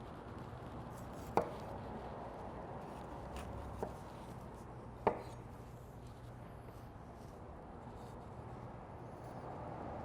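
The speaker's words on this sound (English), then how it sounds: "I'm going to take the top and the bottom off of the onion here and then quarter it." A kitchen knife slices through an onion and bell peppers on a cutting board. Sparse, faint chopping taps sound over a quiet room, with a couple of sharper knocks against the board.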